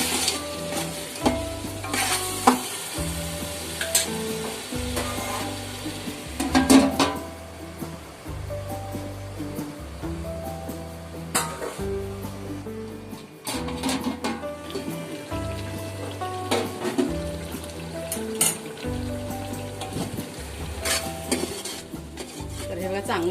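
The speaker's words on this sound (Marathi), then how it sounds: "चांगलं तेल सुटेपर्यंत आपल्याला हे चांगलं परतून घ्यायचं." Tomatoes fry in oil with steady stirring for a large 6 kg batch of chicken biryani: a continuous close sizzle with scraping strokes, over a low, rhythmic background of music.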